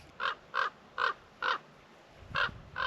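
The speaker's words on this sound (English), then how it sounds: "The crow just reminded me of the exercise I'm going to share." A crow gives six short, evenly spaced caws outdoors, moderately loud against a quiet background.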